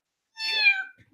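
A pet cat gives a single drawn-out meow, clear and close, with a bright harmonic tone that rises and then fades, alone with no talk.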